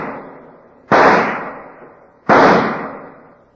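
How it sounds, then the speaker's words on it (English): Two sharp, loud pistol shots ring out at an indoor pistol range, about a second and a half apart, each followed by a long reverberant decay with no talk. "an FBI agent is practicing at an indoor pistol range. He is firing his last rounds"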